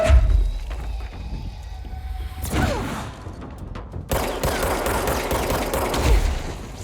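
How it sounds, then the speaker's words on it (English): Machine gun firing in the video game Control: dense bursts of rapid automatic gunfire mixed with game effects and crashing impacts, loud and continuous with a sharp shift midway into a heavier, rattling barrage. "I got a straight up machine gun."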